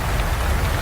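Steady, dense rain pours onto stone masonry, an even wash of close patter with no pauses and no voices.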